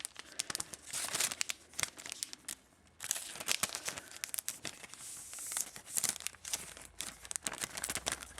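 An envelope slid into a thin plastic sleeve, giving dense, close crinkling and rustling that runs almost without a break, with a short pause partway through.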